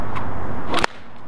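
One loud, close crack from a little whip, preceded by a brief swishing rush and followed by near silence.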